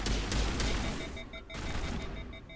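Gunfire in the video game Mass Effect at Peak 15 on Noveria, a steady run of sharp shots and impacts in a busy firefight.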